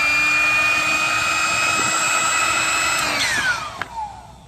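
An electric air pump inflates an air mattress inside a Tesla Model 3, a steady loud mechanical whine and rushing drone that holds for about three seconds, then falls in pitch and cuts off with a couple of clicks.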